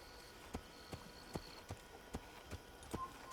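Horse hooves clop on the ground in the Assassin's Creed game on PS3, a steady, evenly spaced trot of about eight quiet hoofbeats over a faint background hum.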